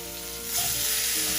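Steak flipped in a hot pan sizzles steadily, the hiss swelling louder about halfway through as the meat turns, with no voices present.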